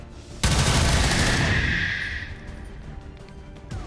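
Gunfire in the video game XCOM 2, starting with a sudden loud blast and a dense rattling burst that rolls on for about two seconds and then fades into a lingering rumble with a few faint clicks.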